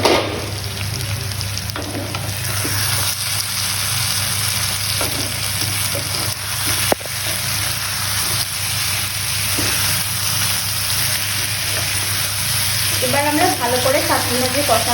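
Jackfruit curry sizzles and hisses steadily in a pan as it is stir-fried, with occasional scraping knocks of a spatula and a faint voice near the end.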